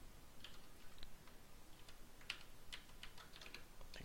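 Keys clatter on a computer keyboard in short, quiet bursts of clicks at an irregular pace, with no voice over them.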